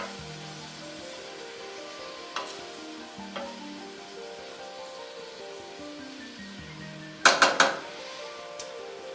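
Crisco melting and roasting in a hot pan, a steady soft sizzle running throughout, with occasional utensil clinks and a brief cluster of sharp metallic scrapes near the end.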